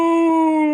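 A human voice imitates a wounded dog's howl, reading Hagrid's line from Harry Potter and the Philosopher's Stone as one short, loud, sustained wail with a slightly falling pitch.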